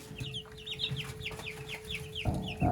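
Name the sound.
chicks eating frozen slushy pumpkin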